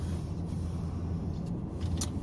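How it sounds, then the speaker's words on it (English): Car heater fan blowing as a steady, close, broadband whoosh with a low rumble underneath, running continuously without talk. "I'm sorry if you heard the heat in the background."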